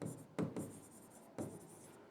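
Marker strokes on a board during a teaching lesson, a few soft, close rubbing squeaks spaced apart in a quiet room.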